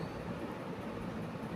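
A small exhibition ride train in Salem rumbles along with a steady, even roar of wheels and motion, continuous and fairly close, with no voices.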